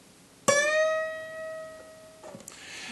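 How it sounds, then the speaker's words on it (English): A single fingerpicked note on an acoustic guitar is plucked and bent up a whole step, ringing clearly and slowly decaying, followed by a soft fret or string noise near the end. "So I'm going to bend this note here. And I'm going to bend it to sound like this note."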